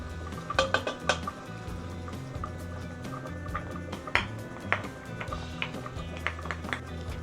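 Curd is stirred into a pot of tomato bath: a spoon clinks and taps against the metal rim in irregular bursts over a low wet bubbling, close and moderately quiet.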